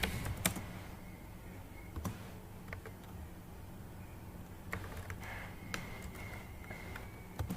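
Someone types on a computer keyboard in a quiet room, with scattered, clear key clicks and a few louder taps coming in irregular bursts.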